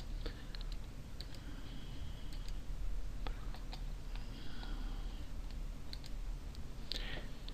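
Several sharp mouse clicks scattered at an irregular pace over a steady low room hum, made while working in a web page to add a YouTube video to an H5P interactive video in Moodle.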